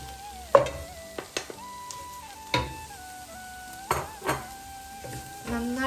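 A spoon stirs onions with chili, coriander and turmeric powders in a pan, scraping and clinking against the metal at irregular intervals over a soft, steady sizzle.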